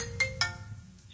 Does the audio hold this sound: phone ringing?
yes